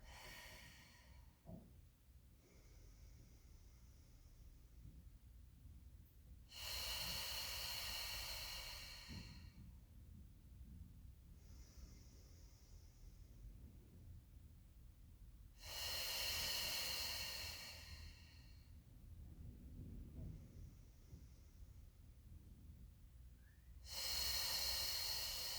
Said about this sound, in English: making sure that we push all the air out with each exhale